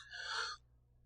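A patient draws one deep breath in during a physical exam, a single soft airy inhale lasting about half a second, then quiet.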